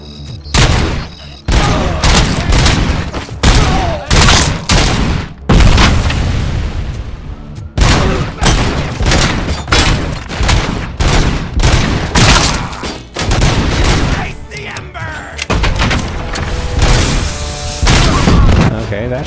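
Gunfire from a RoboCop video game, with repeated loud bursts and booming shots in close, irregular volleys across the whole stretch. A voice talks between the shots.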